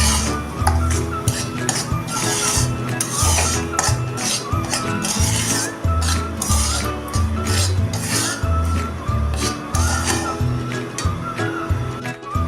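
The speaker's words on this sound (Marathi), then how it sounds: "रवा आता सतत हलवून चांगला भाजून घ्यायचा आहे।" Semolina is stirred continuously as it roasts in hot ghee for mango shira, giving a steady run of close scraping and clinking strokes against the pan that continue without a break.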